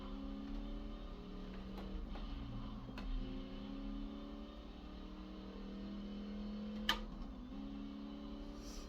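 Racing car engine from the Gear Club video game played on a Hori Mario Kart Mini Pro steering wheel, a steady mid-level drone with gently shifting pitch and a brief sharp click near the end, no talking.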